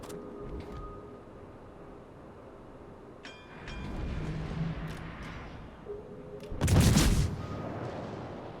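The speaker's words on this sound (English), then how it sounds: "they are shooting. The DDs are shooting him now" Naval gunfire from destroyers in the World of Warships video game: a low, steady battle rumble with scattered shots, then one loud, booming blast close by near the end.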